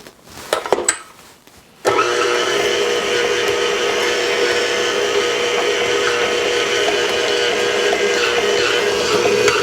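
An electric stand mixer churns struffoli dough in a steady, loud, continuous whir after a few brief knocks and clatters at the start, running on without pause.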